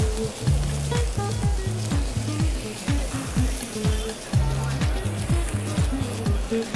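Milk-fed Québec veal steaks sear on a lightly oiled barbecue grill, giving a steady hiss under prominent rhythmic background music.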